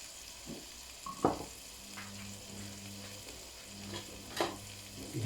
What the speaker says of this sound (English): now I'm just going to gently fry that off